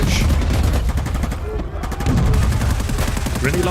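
Rapid gunfire and heavy launcher blasts rattle in a dense, loud barrage inside Escape from Tarkov, with shouting voices mixed into the chaotic firefight.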